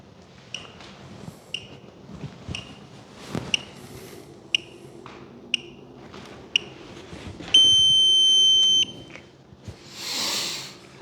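Timer alarm on a Spektrum NX7e RC transmitter, sounding as a series of short, evenly spaced electronic beeps followed by one longer sustained tone, close and clear with faint background noise.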